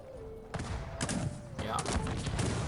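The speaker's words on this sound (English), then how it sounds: "the dragoons will just turn around and shoot some pikemen" Dragoons fire muskets at pikemen in a real-time strategy game, a battle heard as several bursts of crackling volley fire in quick succession, with clustered shots at close range and a low background hum.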